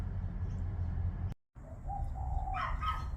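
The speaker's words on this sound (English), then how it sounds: "We have the Gouldians out in the aviary." Gouldian finches call in an outdoor aviary, a few soft, thin chirps and brief tonal notes at a moderate distance over steady background hum, with a short dropout early on.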